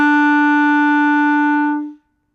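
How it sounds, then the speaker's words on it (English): Clarinet sounding the E on the bottom line of the staff: one sustained, steady, reedy note held for nearly two seconds before stopping cleanly, close and solo. "In this lesson, we're going to learn how to play the note E on clarinet."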